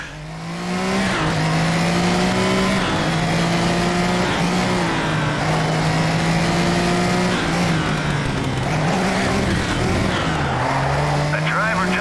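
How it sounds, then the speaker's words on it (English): Race cars in the Little Racers Street video game, one spinning out, with a steady engine drone and long sliding tire squeals over the whole stretch. "The driver just spun out."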